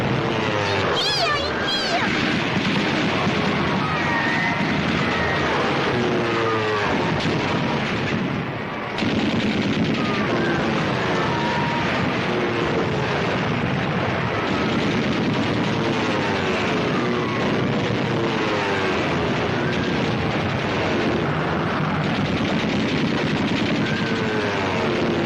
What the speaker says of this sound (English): They were shooting at us.